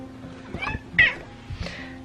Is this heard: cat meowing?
yes